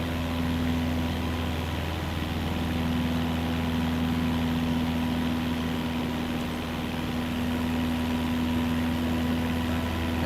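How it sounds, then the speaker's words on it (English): A small airplane's engine running at reduced power in flight over Coweta County, Georgia, a constant droning hum with a steady tone that fills the whole stretch. "now we're gonna lay off the engine a little bit"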